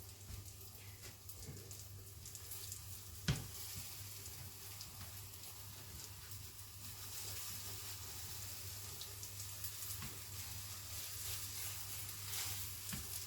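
An omelette fries in a pan on the stove, giving a quiet, steady sizzle with faint scrapes and a single sharp tap, close by and without talk.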